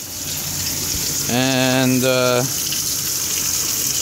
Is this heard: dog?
no